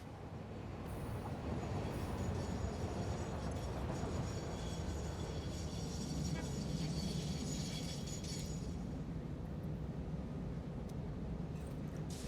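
A video-game train pulling in, a steady rumbling roll of wheels on track with faint metallic squeals and rattles, moderately loud and continuous with no talking.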